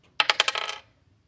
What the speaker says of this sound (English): let's go ahead and roll the dice and see what we get